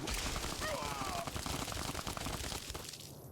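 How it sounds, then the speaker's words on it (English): Rapid gunfire in Fallout: New Vegas, during the Honest Hearts add-on, crackles as a dense, sustained burst of shots that runs throughout under game sound and fades near the end. "He's still shooting."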